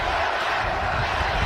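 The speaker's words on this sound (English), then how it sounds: "And now you're hearing the crowd get into it as well." Steady roar of a football stadium crowd at the 2018 Redbox Bowl between Michigan State and Oregon, a dense continuous cheer filling the whole stretch without a break.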